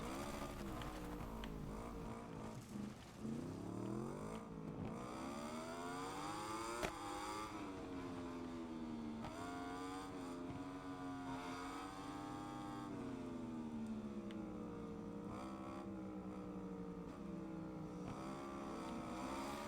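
A motorcycle engine in the racing video game SBK 22 drones continuously for about twenty seconds, its pitch rising and falling with gear changes and revving, a smooth synthetic tone at moderate volume with no talk.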